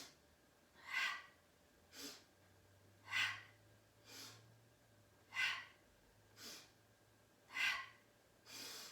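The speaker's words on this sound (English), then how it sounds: "So you're inhaling strongly through the nose, exhaling out through the mouth" Strong yoga breathing during an energy healing practice: four cycles of forceful nasal inhales, each followed by a softer mouth exhale, close and rhythmic with a faint hum behind.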